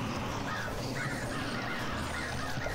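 Crow-like cawing bird cries in the hack-and-slash action RPG Ghost Lore, repeating over a dense, steady game soundtrack and ambience at moderate level.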